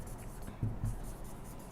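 A teacher writes on a board during a class 8 maths lesson, two short firm strokes followed by soft scratching, close and fairly quiet.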